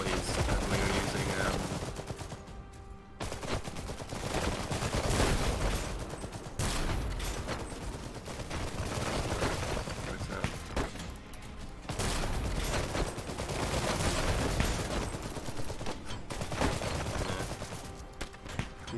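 Saxon soldiers fire MP40 submachine guns in Iron Harvest, producing a continuous dense rattle of automatic gunfire with mechanical clatter. Rain plays underneath, and a voice speaks over it.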